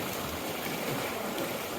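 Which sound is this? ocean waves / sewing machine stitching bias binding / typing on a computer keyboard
ocean waves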